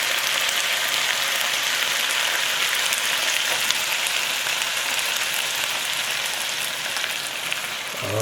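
Red wine poured into a hot cooking pan hisses and sizzles in a steady, dense crackle that stays loud and close throughout, with no talking.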